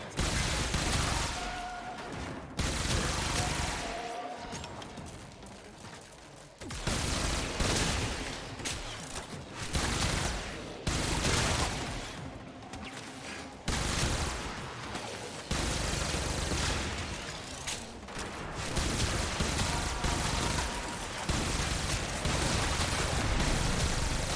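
Rapid rifle gunfire from a Blox rifle in the sci-fi shooter Warframe crackles in loud bursts separated by brief pauses, with booming impacts mixed in and no talk.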